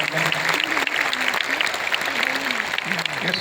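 An assembly hall audience applauds at a spiritual discourse, a loud, sustained burst of clapping from many hands, with a voice speaking over it.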